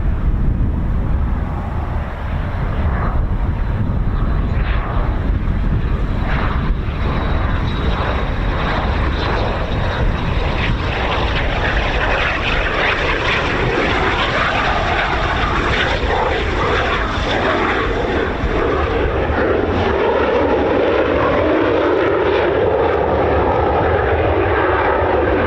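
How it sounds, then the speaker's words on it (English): A Red Arrows jet powered by a Rolls-Royce Adour engine starts up at RAF Waddington, giving a sustained, bassy roar and whine from outdoors that builds and shifts over the length of the clip, with some wind buffeting. "That bassy sound of that Rolls-Royce Ardeur engine"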